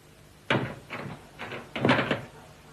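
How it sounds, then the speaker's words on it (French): Wooden door closing indoors, a few soft knocking thuds spread over about two seconds with a louder, fuller thump near the end, quiet room and no voices. "Fermez la porte."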